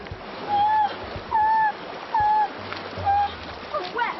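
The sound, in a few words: splashing while wading across a river in wellies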